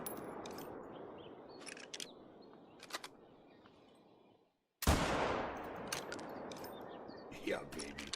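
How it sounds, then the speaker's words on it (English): Gandhar rifle shots from the hunting game Call of the Wild, a few sharp cracks against a steady outdoor ambience, with one loud blast near the middle trailing into a long, fading echo. "So that was the Gandhar rifle"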